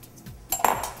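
Edamame beans tipped into a dish or pan as a pesto base, a brief clattering rattle with a metallic ping, close and moderately loud, no voices.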